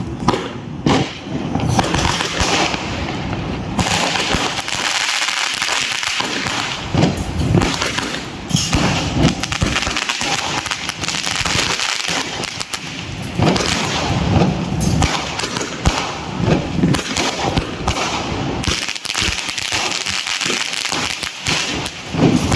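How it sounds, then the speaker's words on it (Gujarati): A 1000-cracker string of firecrackers bursts in a dense, rapid, continuous crackle of loud pops during Diwali celebrations, sustained without pause and close by. "અત્યારે મારો ભાઈ પાર્થિવ 1000ની લૂમ ફોડી રહ્યો છે"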